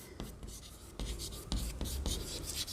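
A pen scratches across paper in short, close strokes and scribbles while a maths problem on fractions is worked out by hand, with a quiet room hum underneath.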